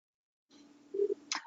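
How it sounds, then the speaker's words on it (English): A household phone sounds off with a steady low tone followed by a short brighter burst near the end, faint and brief in a quiet room, with no one talking. "I apologize if you're hearing my phone go off"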